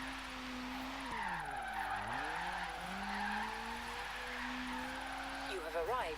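A car drifting in Forza Horizon 3, its engine droning steadily with pitch swings as the tires squeal and skid through a slide, ending in a short burst of screeching, with a voice talking over it.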